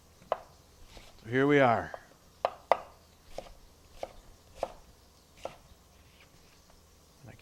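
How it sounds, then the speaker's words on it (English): A knife chopping onions on a cutting board for a rustic chop in a home kitchen: a series of sharp, evenly spaced taps, moderately close, with a brief spoken line near the start. "We're just going to cut these onions up. Nice rustic chop."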